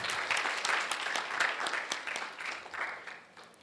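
An audience claps to welcome a speaker at a talk on women wildlife conservationists in India. The applause is steady and moderately distant, with a few sharper claps standing out before it thins at the end.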